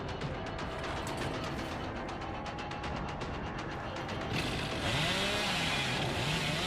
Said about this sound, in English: That's like the only spot on the map where I can maybe use the chainsaw, and it just barely missed it.